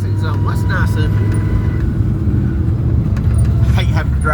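A manual-shift pickup truck drones steadily on the road, its low engine rumble and road noise continuous and loud throughout.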